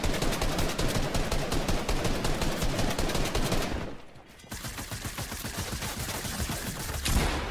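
Rapid submachine-gun fire in Fortnite: a dense, loud stream of shots, a brief pause near the middle, then another sustained burst of the same fast rattling gunfire.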